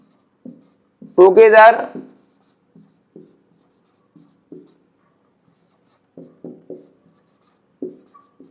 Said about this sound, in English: Again I am just writing the sentence in different ways, in a different way.